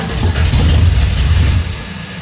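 An old Chrysler Challenger engine cranks and catches into a loud, rough running rumble close by, holding for a moment before easing off.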